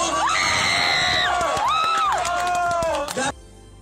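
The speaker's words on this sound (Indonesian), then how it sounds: "Teriakannya bikin salfok ya" A crowd shouts and screams in loud, overlapping voices with rising and falling yells, some whoops and scattered claps, dense and close before cutting off abruptly.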